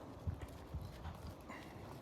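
A horse trotting under a rider in an arena lesson, faint hoof clip-clops landing in a regular beat over a soft background hiss.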